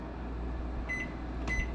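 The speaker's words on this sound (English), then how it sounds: "we're just going to set it up here in the microwave" A microwave oven running with a steady low hum, two short electronic beeps sounding near the end as bread dough is set inside to rise.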